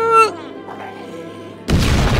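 A zombie's bomb explodes in Project Zomboid: a sudden loud, broad blast bursts in near the end, right after a shouting voice and a short quieter lull.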